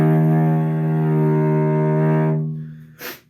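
A single sustained cello note on E flat played under one bow with a gentle, wavering vibrato, rich and close, fading out after a couple of seconds, followed by a short breathy noise.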